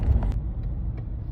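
Cars pass by on a road under long-running repair, a steady low rumble of traffic with a heavier vehicle swelling early, fairly close and continuous, with no talking.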